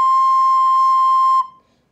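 A single high C note held steady for about a second and a half, a pure bright tone with clear overtones that cuts off cleanly and fades, loud and close with no talking.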